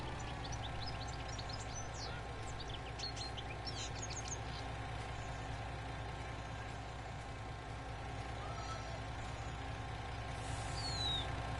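A tractor engine in the Farming Simulator 19 video game idles in a steady, unbroken low drone, with bright chirps near the start that sound like birds.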